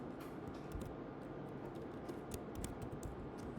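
Computer keyboard typing while filling in skills on a Fiverr account profile, with quick, irregular clusters of light key clicks close by against a steady background hum.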